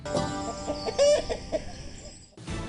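Kev the psychic chicken gives a series of close, irregular clucks with one higher-pitched squawk in the middle, against a quiet background that cuts off abruptly near the end.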